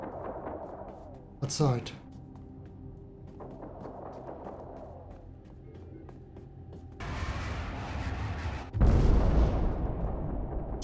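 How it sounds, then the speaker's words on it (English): Video game gunfire and explosions: a sharp burst near the start, then a rumbling blast and a heavy explosion that crashes in later and keeps roaring, with a brief spoken word early on. "somebody is shooting something"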